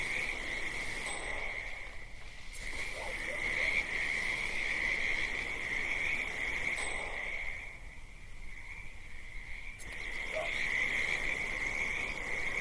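Frogs croak in a nighttime Vermont countryside in the Hitman 2 video game, a steady chorus of croaking and insect-like trilling that fades briefly a couple of times, moderately loud with no talking.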